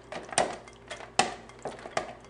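Mashed potatoes get beaten with milk in a bowl, the utensil clinking and scraping against the bowl in a steady rhythm of strokes, fairly close and with no talk.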